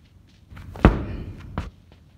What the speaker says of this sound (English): snap down med ball slam